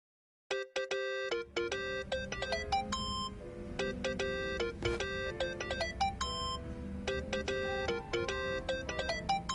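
Phone ringtone in the Yakuza: Like a Dragon video game, a bright synthesized melody of repeating chiming notes that plays continuously and loudly over low background music, with no talk.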